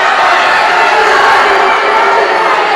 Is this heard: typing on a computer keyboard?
no